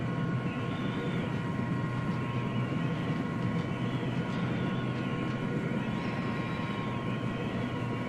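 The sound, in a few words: aircraft flying in the video game ARMA 3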